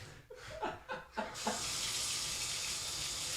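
Water from a shower starts up partway through, a steady hiss of spray that settles into a continuous rush after a few scattered splashes and thuds at the start.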